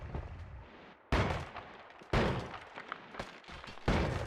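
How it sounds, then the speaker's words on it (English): Sniper gunfire in the game Noita: several sharp, loud shots with heavy low thumps, spaced about a second apart over rumbling background noise. "those snipers can very easily snipe you from afar well before you can see them"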